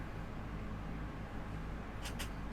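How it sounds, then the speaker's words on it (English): Steady broadband whir of a computer fan running close by, a constant low hum with no talk over it and a couple of brief high hiss bursts near the end. "it's not a dryer; it's just a computer fan."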